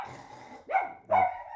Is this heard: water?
no